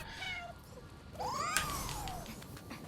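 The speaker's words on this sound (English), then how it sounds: "And here we have a cat" A cat in the video game Nioh 2 gives a couple of soft meows, then a longer, rising and falling yowl, faint over steady background game ambience.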